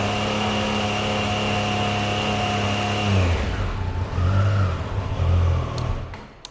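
A 2022 Triumph Tiger Sport 660 motorcycle engine idles with a steady, loud, humming drone, then shifts into uneven revving swells that rise and fall close by.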